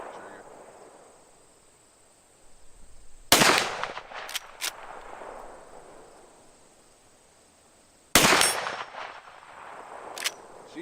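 Two sharp, loud rifle shots fired at a target roughly five seconds apart, each cracking abruptly and trailing off into a ringing decay, with a few quieter clanks after each blast over a faint steady hiss.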